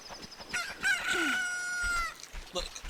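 A rooster crows once, a loud drawn-out call that rises and holds before fading, with softer clucking and rustling around it.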